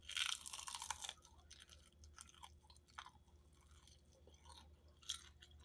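Crunchy fried fish being chewed close up, a burst of loud crisp crunching at first that settles into softer, irregular bites and mouth sounds.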